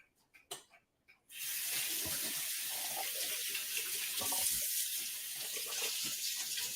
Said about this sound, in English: let me go rinse my fingers off a bit